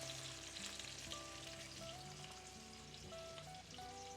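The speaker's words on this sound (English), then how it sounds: "they're still going to fry up for a little bit with the squid in there" Squid frying in a pan gives a continuous close sizzle and crackle with scattered pops, running steadily throughout with no voices.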